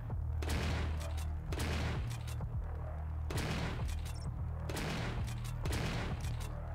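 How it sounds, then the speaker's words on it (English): Shotgun blasts in the retro-style game Classic Shooter, five loud booming shots spaced roughly a second apart over a steady low hum, each with a short decaying tail. "Shotgun."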